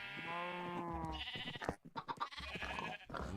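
Pigs in Minecraft let out a drawn-out, wavering grunt, followed by a scatter of shorter snorts and squeals, close and fairly quiet.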